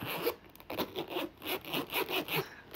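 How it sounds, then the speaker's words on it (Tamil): A zipper on a shoe bag is pulled open in a series of quick, rasping strokes, close and clear, with a steady rhythm of short scratchy bursts and no talking. "ஜிப்போட சவுண்டே பயங்கரமாக இருக்குல்ல"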